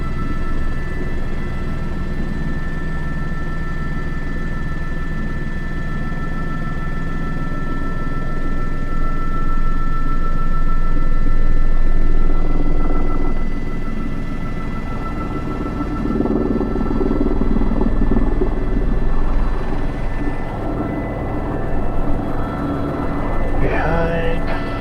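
Helicopter flying low-level sling work with concrete, the rotor's deep, steady blade flapping droning loudly and continuously close by, swelling slightly midway with faint higher whine toward the end.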